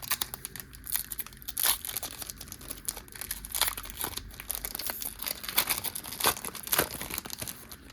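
Pokémon card booster pack wrapper being torn open and handled, with dense crinkling foil rustles and sharp tearing bursts in an irregular rhythm, close and fairly loud.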